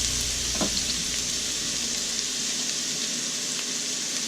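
Zucchini noodles fry in a big skillet with a steady, moderate sizzling hiss, joined by a brief clatter early on, heard close with no talking.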